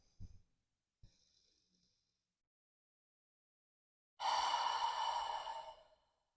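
Two short faint breaths come first, followed after a pause by one long, deep, close breath that swells loudly and fades slowly over about two seconds.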